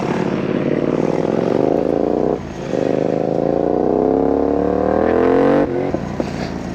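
Yamaha R7 motorcycle in a long skid, a loud sustained rising engine-and-tire roar lasting several seconds with a brief dip midway, close by with no talking.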